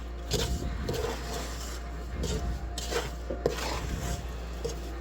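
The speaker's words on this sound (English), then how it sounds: "rolling it in the sugar here" Watermelon rind pieces are rolled in sugar inside a pot, giving repeated gritty scraping and rubbing strokes with faint clinks of the pot and utensil, close and steady with no talk.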